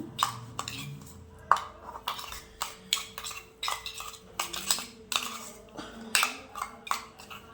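A spoon stirs carrot halwa with orange kesari colour in a pan, giving a steady run of light metallic clinks and scrapes, close and fairly quiet, with no voice over it.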